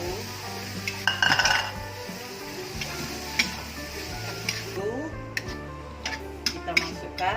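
Spices, pineapple, tomato and sliced chilli stir-fried in a pan for pindang tulang Meranjat at a cooking competition, with utensil clinks and scrapes against the pan over a steady low hum, and occasional voices in the background.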